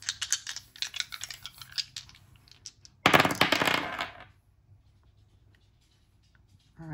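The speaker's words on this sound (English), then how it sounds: "Let's throw the Astro dice and see if we can get some more" Dice clatter and rattle as they are tossed onto a surface, a burst of small hard clicks and tumbling, then quiet.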